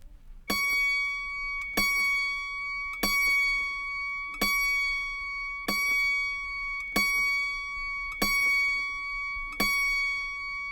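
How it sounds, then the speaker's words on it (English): Autoharp B string, next to the highest, plucked repeatedly while being tuned: about eight clear, evenly spaced bright notes, each ringing and decaying before the next. "Now, tune the B, the string next to the highest string."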